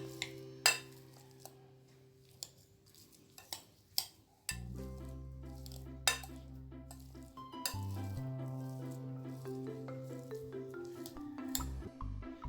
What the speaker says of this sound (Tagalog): I-mash lang natin mabuti ka-friendship hanggang sa madurog ang ating nilagang patatas.